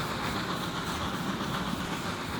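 A train runs through the Transport Fever 2 video game set in the Swiss Alps, a steady rolling rumble with rhythmic rail clatter, moderately loud and continuous with no talk over it.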